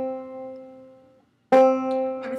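Clawhammer banjo in sawmill tuning, its second string raised from B to C, rings out as a sustained open chord that fades, then is strummed again sharply and rings on, heard alone and close.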